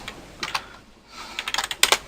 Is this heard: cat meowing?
no